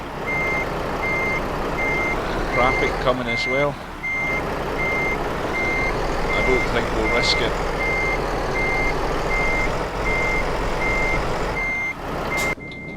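Steady repeating reversing beeps from a truck in Euro Truck Simulator 2, on an extreme road, sounding throughout over a low engine rumble, with someone talking over it.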